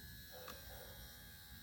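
A replacement power window motor in a 2001 Toyota Camry runs with a steady mechanical whir and faint gear buzz, close and continuous for under two seconds.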